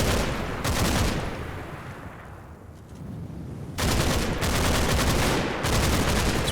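Dense bursts of automatic gunfire and rifle shots crackle in a WWII Normandy battle in the Combat Mission: Battle for Normandy game, loud and sustained, with a quieter lull in the middle before heavy firing resumes.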